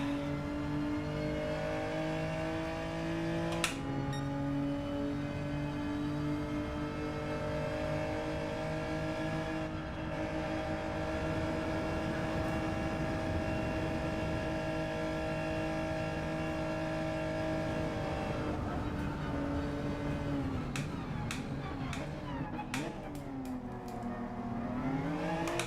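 Race cars in Gran Turismo 7 hold a sustained engine whine for most of the stretch, then rapid upshifts and revving swells near the end as they accelerate, loud and continuous without speech.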